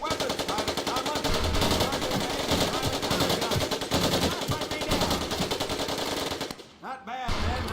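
Automatic weapons fire in a bootcamp scene of the video game Medal of Honor: Pacific Assault, with dense, continuous bursts hammering for several seconds before a brief pause and a final short burst.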